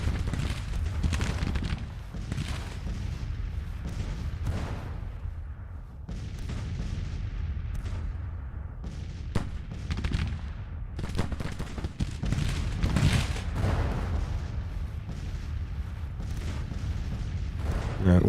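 Artillery volleys in the Civil War strategy game Grand Tactician, cannon fired at extreme range into a flank: repeated booming shots and rolling gunfire, loud and dense across the whole stretch, with scattered sharp reports.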